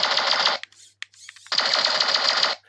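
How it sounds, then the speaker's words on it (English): A Blue Panxer robot toy tank fires its big gun in rapid electronic bursts. Two loud buzzing machine-gun volleys are split by a short gap of small clicks and chirps, close and without talk. "So that's rapid fire. That's the big tank gun."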